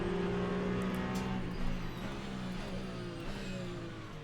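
Race cars in the video game Le Mans Ultimate, including a Toyota, a steady engine drone with shifting pitch and a brief rev, continuous and moderately loud with no talk.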